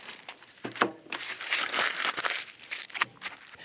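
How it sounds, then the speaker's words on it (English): Aluminum foil crinkled and pressed around a shallow paving brick, close and crisp, with rustling crackles and a few sharper crunches over several seconds. "you wrap it in aluminum foil, shiny side out"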